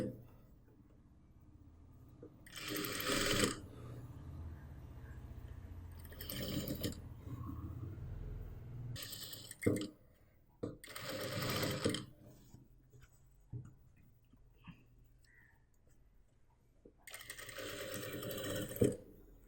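A sewing machine stitches the neckline of a blouse in several separate bursts of steady whirring, each a second or two long, with quiet gaps between runs.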